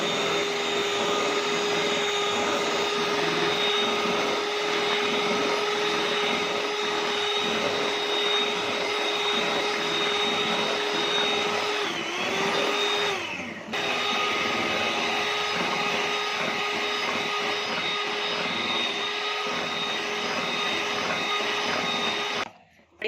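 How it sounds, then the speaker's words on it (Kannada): A blender whirs steadily, loud and close, as it purées a raw mango ice cream mixture, the motor pitch dipping briefly midway before running on until it cuts off at the end. "ಇವಾಗ ಇದನ್ನ ಮತ್ತೆ ಬ್ಲೆಂಡ್ ಮಾಡ್ಕೋಬೇಕು ನಾವು"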